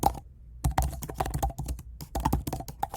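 Quick, irregular clicks and taps of fingers typing a message on a computer keyboard, close and clear, with short pauses between bursts of keystrokes and no voices.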